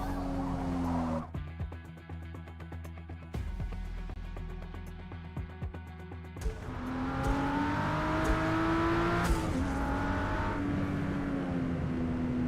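Race car engine on a wet Barcelona circuit in Forza Motorsport, starting with a steady idle and short revs, then pulling away under sustained acceleration with rising and falling pitch through gear changes, loud and close.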